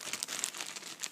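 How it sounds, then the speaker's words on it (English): Tape is ripped off a plastic accessories bag from a boxed TV, a quiet, close crinkling and tearing with several quick bursts. "something I have to rip the tape off of"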